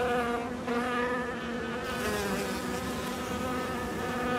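Honeybees drone steadily around beehives on a Paris rooftop, a dense, close, continuous buzz with layered wingbeat tones and no voices.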